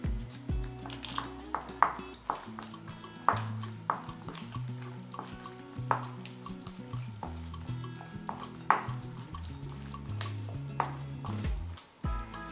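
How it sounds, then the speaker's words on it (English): Shrimp paste mixed with chopped garlic, egg white and cornstarch is stirred in a bowl, giving repeated scraping, clinking strokes of a utensil against the dish at a steady pace, close and clear under faint background music. "Mix the shrimp paste thoroughly."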